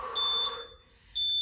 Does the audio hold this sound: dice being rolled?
no